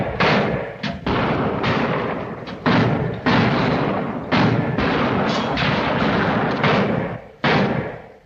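Gunfire in a film shootout: repeated sharp, loud shots fired in uneven bursts, close and booming, with brief pauses between volleys and no talk over them.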